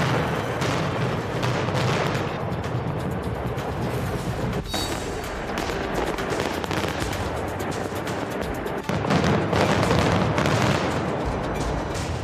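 Demolition blasts at North Korea's nuclear test site tunnels rumble on in a dense, continuous roar, with sharper bursts punctuating the din and a heavier surge near the end.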